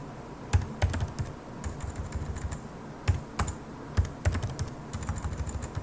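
Rapid clicking keystrokes tap out text in Windows Notepad, close and crisp, coming in irregular bursts with short pauses between words.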